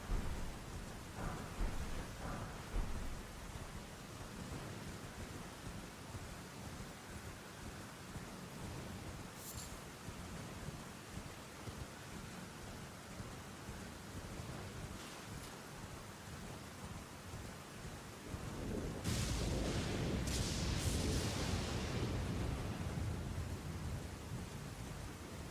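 Steady rain and rolling thunder from a storm in the Elden Ring DLC, a dense wash of rainfall throughout with a few sharp crackles and a heavier, louder surge of rain and thunder near the end.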